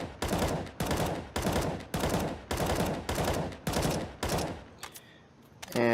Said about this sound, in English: Something else I've been working on is a 3-round burst.